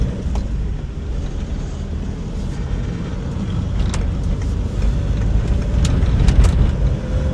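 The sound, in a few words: car driving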